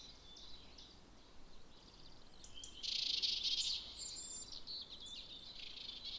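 Small birds call in an autumn garden with a berry tree, among them a robin and a great tit: faint, high, twittering notes come in bursts and swell louder midway, over a quiet background.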